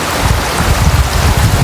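Strong gusting wind roars at night across an abandoned waterpark, a loud rumbling buffet of air hitting the microphone with uneven surges throughout and no talk.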